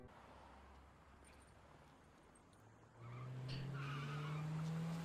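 A car driving by in a film scene, the engine note quiet at first, then swelling loud at the three-second mark with a rising tone and tire noise as it passes close.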